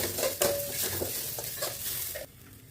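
Curry leaves are stirred in a pan while cooking varagu rice with curd, with a spoon scraping and clinking against the metal amid soft sizzling, close and continuous, then tapering off.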